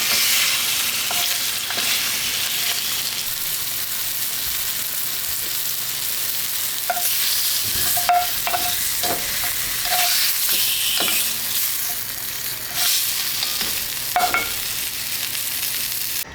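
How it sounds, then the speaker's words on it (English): Flour-coated ribs sear in a hot pan with a constant bright sizzle, broken by scattered spatters and the occasional shift of the meat, close and steady with no talking. "we're gonna braise the ribs to get a little color on there"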